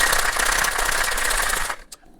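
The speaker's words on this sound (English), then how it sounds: "and give it a shake." A metal cocktail shaker full of ice rattles hard and fast while a rum cocktail is mixed. The dense, loud clatter lasts under two seconds, then stops, leaving a few faint knocks.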